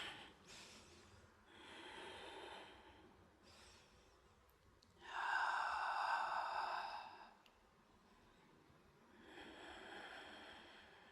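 Slow, audible breathing during a yoga pose, with several long inhales and exhales spaced a few seconds apart, close and soft, one breath louder than the rest.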